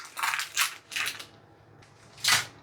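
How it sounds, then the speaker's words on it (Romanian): Baking paper peeled off a freshly baked sponge cake layer, several crisp crackling rustles in short bursts with a pause before a final loud tear, close up. "Acum voi scoate hârtia de copt."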